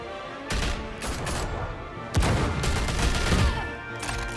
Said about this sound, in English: Still shooting